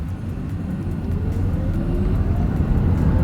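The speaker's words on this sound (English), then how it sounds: "let's see how quickly we can get our new 2024 Volvo XC40 Recharge here up to speed" A 2024 Volvo XC40 Recharge electric car pulls away from a standstill, heard from inside as a steady road and motor hum that swells gradually with a faint rising whine.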